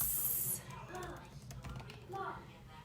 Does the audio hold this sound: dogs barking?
no